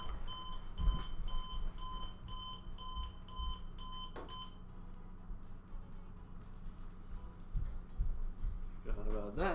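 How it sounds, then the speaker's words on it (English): An alarm beeps in a steady run of high pitched tones over a constant hum in a room, stopping about halfway through, while faint background noise continues. "Oh god, that's my alarm."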